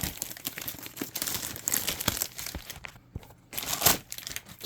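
Cardboard and plastic packaging of a Retron 1 AV game console box being opened up close, with steady crinkling, rustling and tearing sounds, a short quieter pause, then a burst of louder crumpling.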